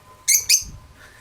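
Two sharp, bright chirps from a pet bird indoors, a quick pair of close, loud tweets followed by quiet room noise.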